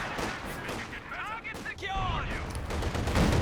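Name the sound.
howitzer artillery fire in video game Company of Heroes 2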